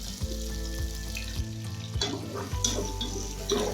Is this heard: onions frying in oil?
yes